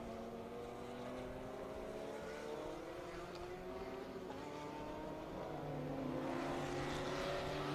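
Race cars lapping the Circuit of the Americas in a super lap battle, a faint, distant engine drone with rising and falling pitch as cars pass, steady throughout.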